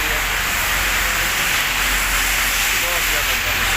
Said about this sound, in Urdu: بہت زیادہ بارش ہو رہی ہے،